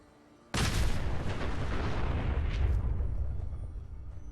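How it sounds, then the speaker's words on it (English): A nuka grenade from the video game Fallout 4 detonates with a sudden, loud boom, then a long rumbling blast roars on and slowly fades over several seconds. "Now I'm going to use this handy dandy new nuka grenade that I just picked up here."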